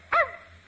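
A man imitates a dog with a single short, sharp bark that fades quickly, voiced as a performing dog-faced boy in an old radio comedy show.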